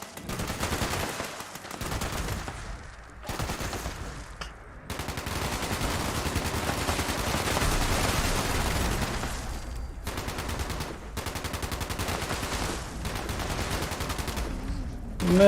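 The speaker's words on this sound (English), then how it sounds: "It appears to be shooting a barn for some reason." Sustained automatic gunfire in Fallout 76 aimed at a barn, long rapid bursts separated by brief pauses, steady and fairly loud throughout.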